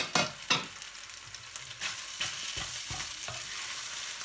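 Chopped onions tipped into minced meat frying in a pan, then stirred: a couple of sharp clattering drops at the start, followed by steady sizzling and scraping stirs, fairly close and with no voices.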